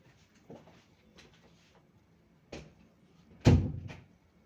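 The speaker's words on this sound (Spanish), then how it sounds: "Cierra la puerta." A door being shut indoors in a home, with a few soft knocks and shuffles leading up to a sharper closing thump, moderately near and fairly quiet overall.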